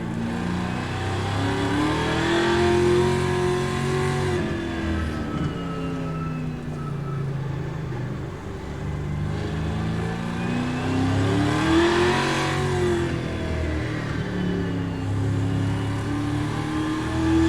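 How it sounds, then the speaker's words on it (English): Pro 2 racing truck engines in iRacing at a Long Beach qualifying session give a loud, continuous buzzing drone that revs up and down in pitch through the laps, with no talk over it. "Trucks are on track for a 5-minute, 3-lap single truck qualifying session."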